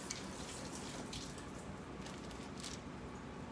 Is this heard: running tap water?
yes